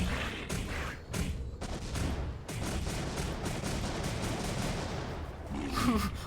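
Missile pods on a mech in M.A.S.S Builder fire in a rapid barrage of loud, repeated bursts and booms that run almost continuously, with no talk.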